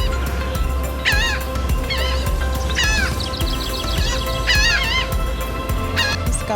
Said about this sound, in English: Hang on, wait for the birds.